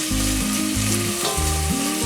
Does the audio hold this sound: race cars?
no